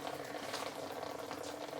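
Water from a garden hose pipe spraying steadily onto a garden bed, a continuous close hiss with no pauses and no talk.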